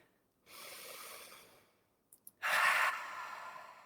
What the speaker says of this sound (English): Breathing in and breathing out.